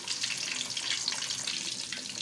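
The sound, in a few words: fish frying in oil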